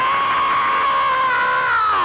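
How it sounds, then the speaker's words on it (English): A creature lets out a sustained, high, shrill scream that wavers slightly and bends downward near its end. It rings loud and unbroken with no talk over it. "all you then hear is this, once again, this scream."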